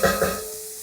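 Ginger and garlic cook with sliced shiitake mushrooms in sesame oil, two quick sizzling bursts up close that fade into a softer, lingering hiss.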